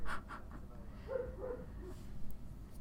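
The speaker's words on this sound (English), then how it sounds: "God, this dog won't shut up." A dog barks a few times somewhere downstairs, muffled and fairly faint under a low steady room hum, with short yappy bursts near the start and later.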